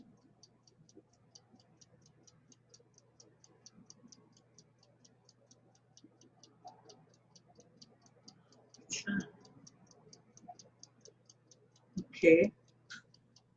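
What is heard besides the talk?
clock ticking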